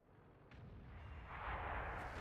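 An artillery shot fires in World of Tanks: a deep booming blast that rolls out and swells into a long rumbling tail, loud and alone with no talk.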